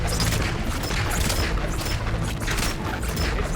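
Dense, continuous volleys of gunfire from God of War Ragnarok crackle and boom without pause, loud and close, forming a steady rattling barrage throughout.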